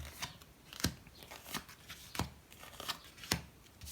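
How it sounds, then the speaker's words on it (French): Five cards are laid down one at a time on a table, each placement a sharp, close snap or slap at irregular intervals with soft rustling between. "je vais mettre 5 cartes"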